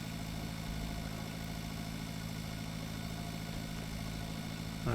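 A tractor engine in the farming game Pure Farming 2018 runs at a steady idle, a continuous droning hum with a constant low tone, loud and unchanging, with no talking.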